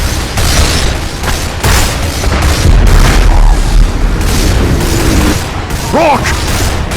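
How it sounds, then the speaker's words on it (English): Explosive charges detonate in the video game Damnation, a rapid series of heavy booms and crashing rumbles layered with mechanical clatter and debris, loud and close, with a brief voice and whistling tones near the end. "Explosives are the trigger, but gravity will do most of the work."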